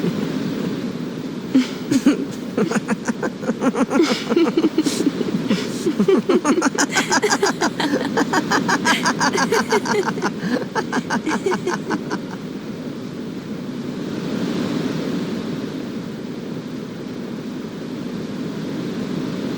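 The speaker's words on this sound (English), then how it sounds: "The wind. It's nice." Steady wind blows through a Final Fantasy X scene: a broad, even whooshing rush that carries on throughout, with rapid clicking textures over the first two-thirds before the sound settles into a plain airy hiss.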